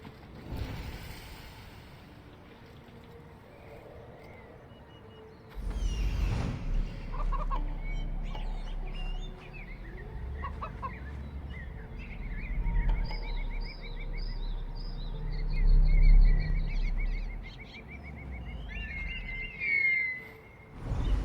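Bird in the video game Elysium, clucking and squawking calls scattered over rumbling game ambience, with louder bursts and low thumps in the second half.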